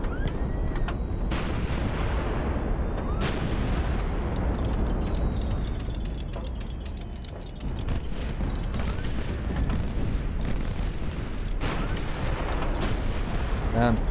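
Naval ship guns and artillery fire boom repeatedly in the video game Highfleet, dense overlapping blasts and shot impacts rolling almost continuously, loud and close, with a brief lull midway before the barrage resumes.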